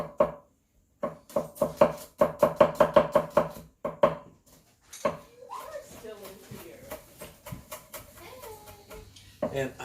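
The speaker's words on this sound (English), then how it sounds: "I'm gonna chop that up with the garlic and just mix that up in there" Garlic being chopped with a knife on a board, a quick burst of rhythmic close taps that stops, followed by casual talk in a home kitchen.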